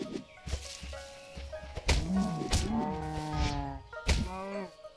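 A Minecraft cow is struck with a staff, giving several short, close moos and hurt groans separated by dull hit thuds, in an uneven rhythm over a quiet game background.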